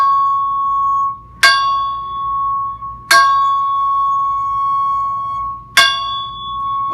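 A metal chime tube rings three times, each strike a bright attack followed by a sustained, pure C sharp fundamental tone, close and loud with no talking.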